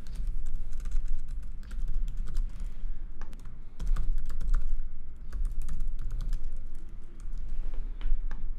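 Rapid typing on a PC keyboard, dense continuous key clicks with brief pauses, close and clear, no voices.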